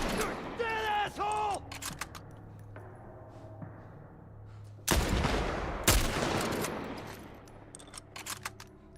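Rifle shots ring out in The Last of Us Part 2, two sharp loud cracks a second apart amid game ambience, with creaking and shouting voices around them.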